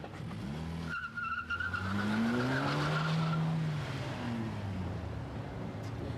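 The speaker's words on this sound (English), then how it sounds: "The two robbers ran to their car and fled towards Upper Changi Road East." A stolen white Honda Civic getaway car speeds off with a rising, then falling engine whine and a squeal of tyres, fairly close and loud, over steady road noise.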